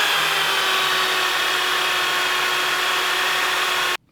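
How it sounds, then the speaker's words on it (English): A more powerful drill borrowed from a garage bores into wood for a pool cue rack, a steady loud whine running unbroken for about four seconds before cutting off abruptly. "I'll probably just resort to the more powerful drill again."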